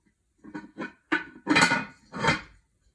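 A heavy lid for the lavender Our Place Always Pan knocks and rattles into place in a few distinct close clanks, separated by brief pauses.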